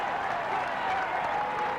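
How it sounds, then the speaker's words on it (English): Roadside crowd cheering and applauding a Tour de France mountain climb in 1994, a dense, loud, steady roar of clapping and shouting with no break. "Look at the cheers now for Indurain."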